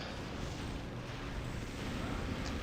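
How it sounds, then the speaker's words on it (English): Bombard rocket shots exploding in Warcraft 3, heard as a dense, low booming rumble with overlapping blasts, loud and continuous for a few seconds. "2 Bombard shots and he's dead."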